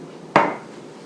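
A 9 by 13 inch glass baking tray is set down with a single sharp clatter against a hard surface, near and clear, ringing briefly before fading into quiet.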